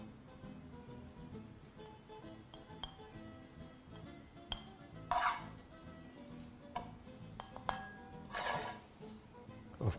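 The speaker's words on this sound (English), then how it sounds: "We're going to proceed to plate some of this on our plate." Utensils clink and tap faintly against dishes while zucchini spaghetti with chicken is plated, with a few brighter scraping clatters scattered over a low background hum.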